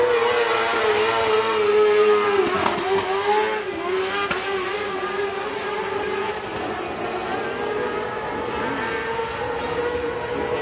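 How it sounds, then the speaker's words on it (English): A dirt-track race car at Freedom Motorsports Park running rich during a heat race, its engine a steady loud drone broken by a few sharp popping crackles of excess fuel. "Maybe burning a little bit rich and just popping some excess fuel."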